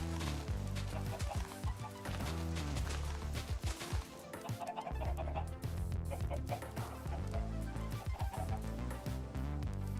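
Chickens cluck over and over in Minecraft, a dense, busy flock making steady overlapping clucks with no pauses and no voices.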